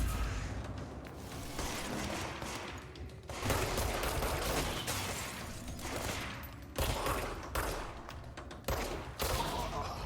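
Rapid bursts of video game gunfire from Control, loud and close, with dense volleys separated by brief gaps.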